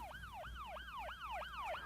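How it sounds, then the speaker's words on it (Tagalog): Police car siren wailing in a fast repeating sweep, about six rising-falling cycles in two seconds, steady and moderately distant, with no talk over it. "Lugan dagiti pulis."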